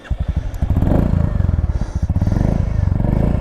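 A Royal Enfield Meteor 350 fitted with an AEW exhaust pipe thumps along at close range, a loud, rhythmic single-cylinder pulse that quickens and swells as the bike accelerates on a ride.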